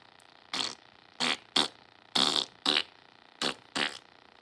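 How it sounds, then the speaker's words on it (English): A string of seven sharp fart noises, each about a quarter-second long, comes in uneven bursts with short pauses between them. They are loud and close, with no talking. "Fart therapy."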